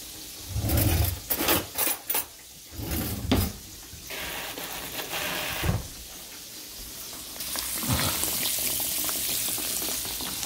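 Turkey chops fry in a pan with a loud, steady hiss and crackle, interrupted early by heavy clunks and handling noises of pans and utensils.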